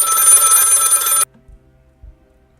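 A telephone bell rings loudly in one continuous burst of just over a second, then cuts off sharply into quiet with a couple of faint thumps, used as a sound effect during a Call of Cthulhu tabletop RPG session.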